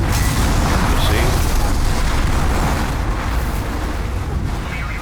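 Fire attack exploding in Demon's Souls, a heavy rumbling boom and roaring blast that fills the clip and slowly fades, loud and dense with low-end rumble.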